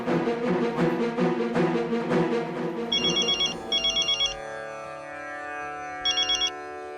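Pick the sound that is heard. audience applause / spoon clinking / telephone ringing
telephone ringing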